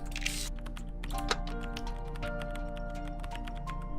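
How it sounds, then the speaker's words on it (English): Typewriter keys tapping inside a video game room, a string of light rapid clicks over a steady background music bed with sustained tones, moderately close and continuous. "She typing on a typewriter?"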